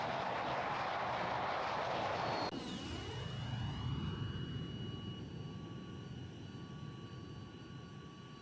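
Aircraft engine roar in the combat flight game Tiny Combat Arena, a broad steady rumble that shifts abruptly as a plane passes, leaving a sustained whine and tonal drone fading gradually, with no talk.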